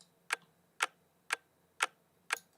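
Sharp percussive ticks from a trap percussion loop that mimics a clock, five evenly spaced hits about half a second apart, crisp and close with quick decays and nothing else playing.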